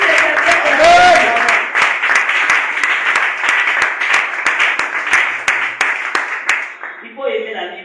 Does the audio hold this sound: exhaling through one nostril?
no